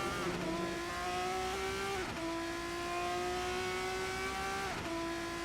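A Formula 3 race car in a racing video game runs a practice lap at Monza, its engine whining high and steady, rising in pitch through each gear and dropping sharply at three upshifts, close and continuous.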